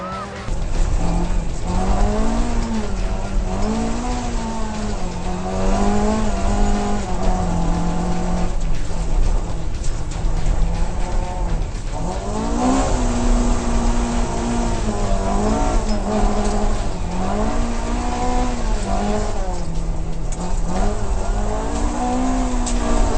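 A Super Modified race car cornering on a wet, slippery track in Barbados, its engine loud and close, repeatedly rising and falling in pitch as it revs through the bend over a constant roar.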